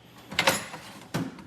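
A drawer on a small, somewhat beat-up tool box slides open with a short scraping rattle, then a second brief thud or slide follows, close by and moderately loud with no talking.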